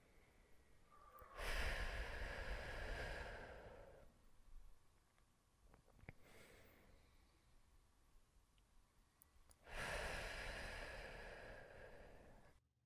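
Breathing exercise with slow, deep exhalations through the mouth: two long, soft airy breaths several seconds apart, each lasting about three seconds, close and quiet with near silence between them.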